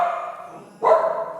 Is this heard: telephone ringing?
no